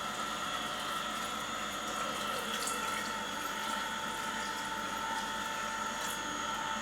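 A vegetable juice extractor runs with a little water inside for a first rinse, giving a steady whirring motor hum mixed with sloshing, splashing water, continuous and close with no talking.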